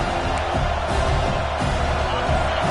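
A stadium crowd in an NCAA football video game roars as a dense, sustained wall of cheering during a fourth-down play, with a commentator talking over it.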